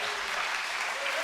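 A church congregation bursts into loud, continuous applause and cheering, dense clapping filling the whole moment with voices mixed in.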